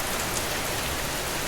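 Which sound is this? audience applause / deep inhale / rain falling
rain falling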